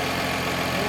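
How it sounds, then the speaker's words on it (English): A 1965 Ford Falcon engine runs steadily at idle with its AC compressor engaged, a continuous, fairly loud mechanical hum and whir close by, with no voices. "With the right amount of refrigerant in, the compressor finally started cycling on and off"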